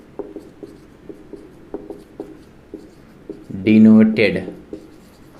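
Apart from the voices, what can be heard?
writing on a board while teaching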